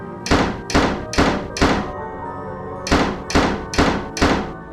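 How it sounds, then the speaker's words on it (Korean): Eight heavy wooden thunks in a sound effect for doors being flung open in an animated horror story, coming as two quick, evenly spaced groups of four with a short pause between them, close and loud. "애들 장난이라고 여기고 짜증이 난 나는 소리를 버럭 지르면서 일부러 문을 확 열어 제꼈다"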